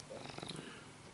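A cat purrs close by in a short, soft, continuous rumble with no other sounds over it.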